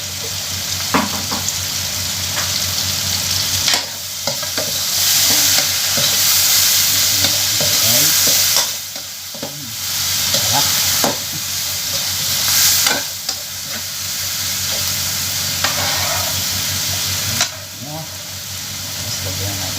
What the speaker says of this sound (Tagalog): Lagay na natin ang ating shrimp o bagoong alamang.